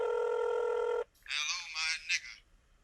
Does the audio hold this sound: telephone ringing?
yes